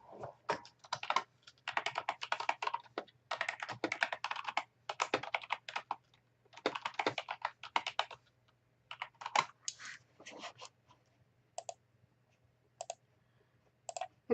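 Someone types a title on a computer keyboard in quick bursts of clicky keystrokes, close and fairly quiet, with short pauses and a few isolated taps toward the end, with no talking.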